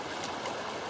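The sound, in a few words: Huon River water flowing quickly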